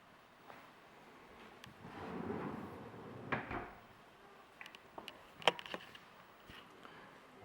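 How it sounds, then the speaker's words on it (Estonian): A drawer slides out of a Nordplan chest of drawers in a new room, a soft smooth rolling run followed by a few light knocks and clicks, close and quiet, no one speaking. "Sahtel jookseb välja."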